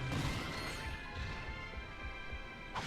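Objects smash and crash in the video game Ratchet & Clank: Going Commando, a dense breaking burst at the start fading into a rumbling clatter, with another quick hit at the end.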